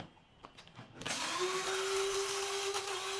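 Electric multifunctional coffee grinder switching on and grinding spices, a loud steady whirring motor with a rising hum that settles into a constant high drone after a brief quiet start.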